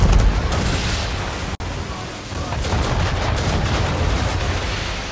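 Cannon fire thunders through a naval battle in Assassin's Creed III, a loud, dense, continuous roar of booms and blasts that breaks off for an instant partway through.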